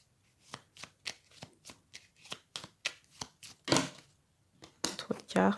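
Tarot cards shuffled by hand in a series of about a dozen sharp riffling bursts, roughly twice a second, close and clear, with quiet pauses between them and a few louder, longer shuffles near the end.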